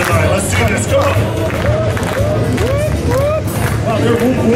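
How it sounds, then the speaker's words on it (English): A crowd at a DJ hype event whooping and cheering, rising whoops over constant babble and some clapping, loud and sustained with talk mixed in. "they're whooping without me even telling them to now"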